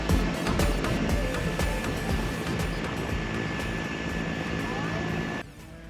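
A light sport aircraft flies over the Korea Strait between Korea and Japan, its steady engine and propeller drone loud and continuous under wind noise before dropping off sharply near the end.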